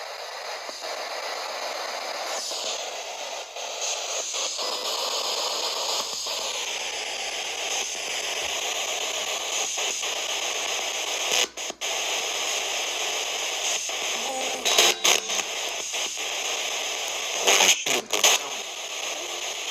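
An FM radio hisses with steady static while scanning through stations in a saloon at Mount Wilson Ranch, and brief clicks and chirps break through as channels flick past.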